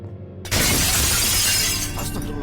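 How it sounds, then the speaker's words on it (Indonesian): Glass shattering in a horror video game: a sudden loud crash of breaking glass that sprays bright noise and then trails off into scattered tinkling fragments, with no talking. "Siapa yang mecahin kaca?"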